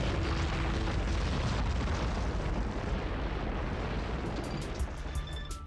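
Asteroid impacts pound the Moon's surface in a dense, continuous wall of loud booming rumbles and blasts that slowly fades toward the end.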